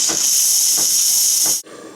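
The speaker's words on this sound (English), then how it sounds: "I'm just going to want to blow some extra steam out just so that it clears the airway of any leftover milk" Espresso machine steam wand purging a loud, steady hiss of steam to clear leftover milk, cutting off abruptly near the end with a faint airy tail.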